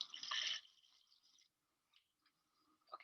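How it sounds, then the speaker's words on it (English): Liquid pouring into a container at close range, a bright gush that sputters off after about half a second, then faint trickles and small drips. "And I'm going to pour some in a container for me."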